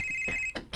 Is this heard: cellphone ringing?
yes